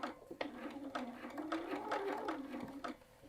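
A sewing machine stitching across the binding of a quilted jacket, its motor whirring steadily with rhythmic needle ticks, close and fairly quiet, with no talk over it.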